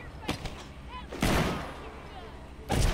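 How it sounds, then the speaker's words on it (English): Gunshots in the zombie survival game The Walking Dead: Saints & Sinners, a few sharp cracks scattered across a short stretch: one early, a heavier burst in the middle and another at the end. "Crawled up this ladder and some bitch just started shooting for no reason."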